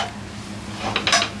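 Chicken noodles toss in a hot pan over a high flame, a steady sizzle under scraping and clinking of a utensil against metal, with a brighter clatter near the end.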